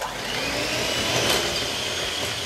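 Electric hand mixer whipping eggs with sugar into a fine foam for vanilla chocolate muffins, a loud steady whirring drone with a slight rise in the middle.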